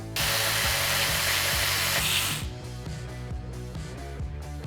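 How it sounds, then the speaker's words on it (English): Tool work on the clutch cover of a Segway Powersports 1000cc machine, with a loud, steady buzzing whir for about two seconds followed by lighter repeated ratcheting clicks and metallic taps. "first things first, we gotta remove the clutch cover so we can actually get to the clutch itself"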